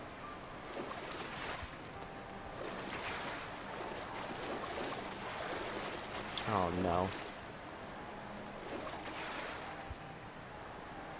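Water sloshing and splashing with a washing, wave-like wash in the video game Trine, a continuous soft wet wash with a brief brighter splash burst midway, under intermittent talk.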